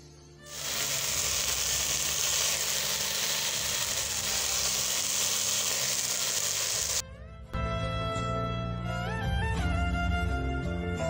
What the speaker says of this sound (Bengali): তেল দিয়ে দিচ্ছি, তারপর 5 ফোড়ন দিয়ে দেব